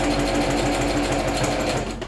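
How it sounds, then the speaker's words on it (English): A sewing machine runs steadily close up, top stitching along a fabric facing, a fast continuous mechanical chatter that slows slightly at the end, with no talking. "Next up, I'm gonna do a little top stitch, because this is the facing."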